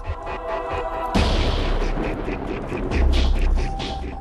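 A test detonation of 350 g of C4 plastic explosive produces a sudden heavy boom that cuts in sharply, followed by a rumbling, crackling tail and a second low thump. No one speaks.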